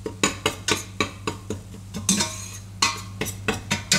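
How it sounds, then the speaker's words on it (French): A utensil scrapes and taps rhythmically against a pan while buckwheat flour is stirred into a béchamel, roughly a dozen sharp strokes with a brief pause mid-way, close and clear over a low steady hum, no speech. "Je vais bien mélanger et on va cuire un petit peu la farine."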